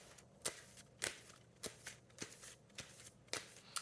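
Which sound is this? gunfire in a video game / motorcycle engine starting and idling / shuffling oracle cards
shuffling oracle cards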